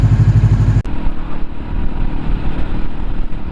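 A cheap naked Kawasaki Ninja motorcycle engine running rough: a throbbing, uneven idle close by, with a sharp knock or cutout near the start before the rumble carries on.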